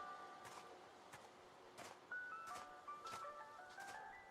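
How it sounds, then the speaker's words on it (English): A spooky ice cream truck jingle plays faintly and a little distant in the Sirenhead game, its tinkling melody repeating in short bright notes over a quiet, dark ambient bed. "it's an ice cream truck. Spooky ice cream."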